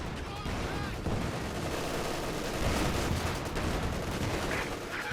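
Howitzer shells land in a Company of Heroes 2 match, a dense wash of booming impacts and crackling battlefield fire filling the mix, steady and loud throughout.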